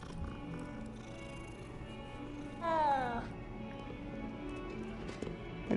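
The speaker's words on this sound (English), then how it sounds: "It even did a little meow." A cat in the video game Hogwarts Legacy gives one short, clear meow amid quiet game ambience and soft hoof-like steps.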